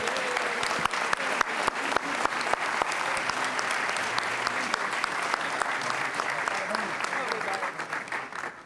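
An audience at a scholarship awards ceremony applauds a winner with sustained, dense clapping that fills the room at an even level throughout.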